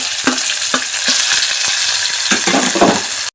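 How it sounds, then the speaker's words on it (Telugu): Onions, green chillies, curry leaves and coriander sizzle loudly in hot oil in a pan for a masala vegetable idli, with steady frying crackle and a few sharp stirring clacks, no voices. "ఆనియన్స్ వేస్తున్నానండి, పచ్చిమిర్చి వేస్తున్నానండి, కరివేపాకు, కొత్తిమీర వేసేస్తున్నానండి."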